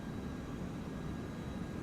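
Steady broadband roar of a jet airliner spooling up for takeoff in a flight simulator departing KISP, a constant, even rumble with no voices over it.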